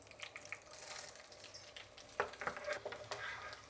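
Black pepper and cumin crackle in hot ghee, with cashews already in the pan, while cooking pongal: a close, steady sizzle with scraping stir strokes and a few sharper pops.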